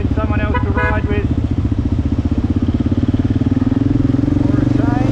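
A motorcycle engine runs steadily with a throbbing, pulsing drone while riding on the road toward Islamabad, loud and close, with a voice talking over it.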